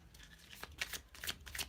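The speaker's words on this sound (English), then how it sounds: "And I kind of just shuffle like this till I get a few cards." Tarot cards, a dog-themed deck, are shuffled by hand in a few quick, soft riffling bursts, faint and close with no talking.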